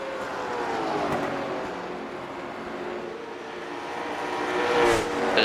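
Late model stock cars racing at Richmond: a continuous loud engine roar rises and falls as cars circle, with a sharper pass-by swelling near the end.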